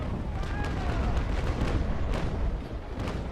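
Six-pounder long cannons fire in Naval Action Legends, a sustained heavy rumble of overlapping booms with several sharper cracks standing out, loud from start to finish.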